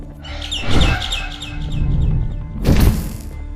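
In the video game Garten of BanBan 6, a loud nearby bird lets out a quick series of rapid chirps, with two heavy thumps, one early and one near the end.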